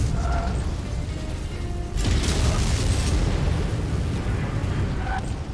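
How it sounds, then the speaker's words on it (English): Missiles fired at a Banshee mech in Mechwarrior 5 burst out as a sudden loud whooshing boom, followed by sustained rumbling impacts and mechanical clatter, close and dense. "Throw some missiles on them"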